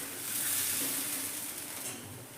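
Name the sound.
semolina dosa batter sizzling as it is spread on a hot tawa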